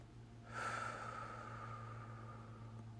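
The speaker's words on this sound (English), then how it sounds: "Take a breath in." A person drawing in one slow, deep breath, a soft airy inhale starting about half a second in and fading gradually over a steady low hum.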